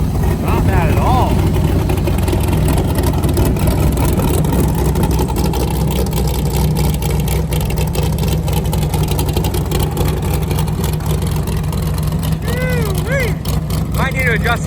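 A port fuel injected LS3 engine on an airboat runs steadily at close range, a loud, continuous drone with a low rumble that holds throughout, while someone talks over it.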